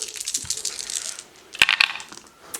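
Six dice tumbling during a Marvel Crisis Protocol tabletop match, a scatter of light clicking rattles followed by a brief sharper clatter as they settle.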